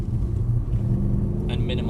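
A car's engine rumbles deep and steady as it accelerates under throttle with its wheels spinning, heard from inside the vehicle while a voice talks over the drone.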